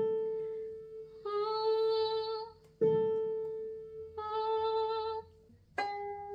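During tuning, a violin's A string is bowed in several long, steady notes separated by short gaps and sharp attacks, heard up close and alone.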